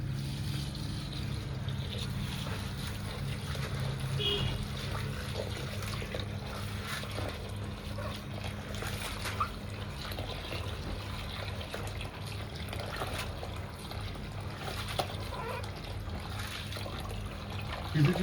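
Water runs and trickles steadily while items are washed one by one by hand, a continuous close splashing wash with faint background murmur.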